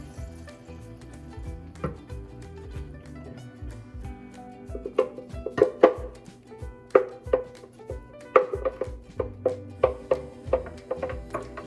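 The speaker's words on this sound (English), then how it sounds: "We are frying just a little the salsa." Steady sizzling hiss of salsa frying in a pan for chilaquiles, with scattered clicks and taps of utensils against cookware growing busier toward the end.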